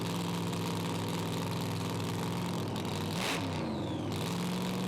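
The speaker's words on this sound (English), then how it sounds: "Little blip of the throttle, a phantom rev for Canuli." A pro alcohol drag car idles loudly and steadily on the start line at a 400 Thunder event, then gives one sharp throttle blip that flares up and settles back into the rough, close idle.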